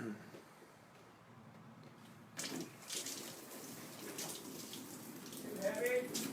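Water gushes from a sink hose into a float tent tank, starting abruptly and continuing as a steady splashing rush, with people talking over it.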